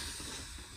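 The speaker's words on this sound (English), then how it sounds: "Always purge your wand after steaming." A Gaggia Classic Pro espresso machine's steam wand purges in one short, loud, airy hiss of steam, close up and heard alone.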